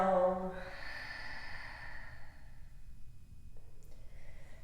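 A slow, breathy exhale during a yoga flow, starting with a brief voiced onset and trailing off into a soft airy hiss against quiet room noise.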